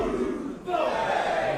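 A capacity crowd roars at a professional wrestling show inside the O2 Academy, a loud, dense wash of cheering and shouting that swells slightly partway through and stays continuous throughout.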